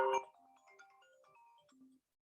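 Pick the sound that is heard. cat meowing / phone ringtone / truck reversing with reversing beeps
phone ringtone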